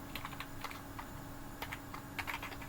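Steady clatter of keys on a computer keyboard while Go code is written, irregular bursts of quick keystrokes at close range, fairly quiet with no voices.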